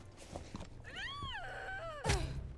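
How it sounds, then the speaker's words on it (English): A Rainbow Six Siege operator lets out a drawn-out, wavering moan as they are eliminated in the video game, followed by a short thud, loud and alone. "When an operator is eliminated, it seems they have a chance to make some uncomfortable sounds"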